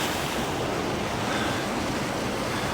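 A shallow river only a couple of feet deep rushes past, a steady, broadband wash of flowing water heard close by with no talking.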